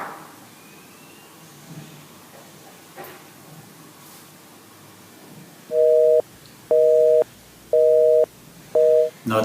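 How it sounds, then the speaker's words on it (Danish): A telephone busy signal sounds as four evenly spaced loud tone bursts after a quiet stretch of low background hiss. "der er desværre optaget igen"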